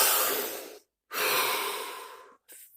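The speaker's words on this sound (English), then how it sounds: "Deep breath." Two long, deep breaths, each a broad airy rush close to the listener, separated by a short silence and followed by a brief third exhale, during a guided body-scan relaxation with no talking.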